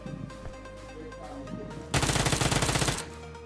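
Uzi fire in the PUBG video game: after a quieter stretch of game ambience, one loud, rapid automatic burst rattles for about a second, its shots evenly spaced and close, then cuts off.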